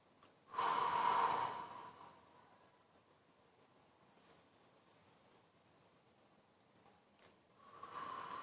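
Slow deep breathing during a calming exercise: one long loud exhale near the start, a quiet stretch, then another breath rising at the end, close and without talk.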